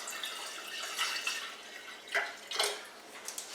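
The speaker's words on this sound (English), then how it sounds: "I'll pour a little bit of water in there" Water poured from a tap into a jug for mixing a beer brew, a soft continuous trickle with a couple of brief louder splashes, heard close up.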